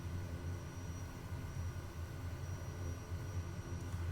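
A steady droning aircraft engine in Flight Simulator as a plane taxis on a bush airstrip in Botswana, a constant loud hum with a low buzzing tone that holds evenly throughout, with no talking.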